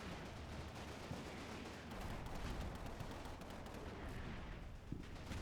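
Machine gun fire in a video game makes a dense, continuous crackle of rapid shots, with a couple of sharper reports standing out from the steady barrage.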